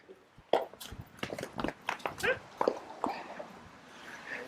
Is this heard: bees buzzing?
no